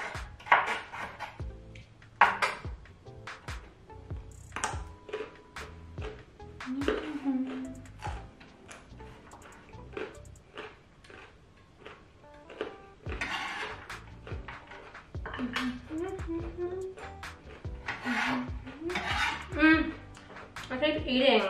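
Kitchen knife chopping vegetables into matchsticks for bibimbap on a cutting board, a run of quick, close, sharp taps against the board in uneven bursts, with someone talking throughout.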